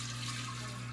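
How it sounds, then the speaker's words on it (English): Steady stream of liquid poured into a jar for homemade kombucha, a continuous splashing wash that runs without a break and sits close by, with no voices over it. "Pour it into the jar."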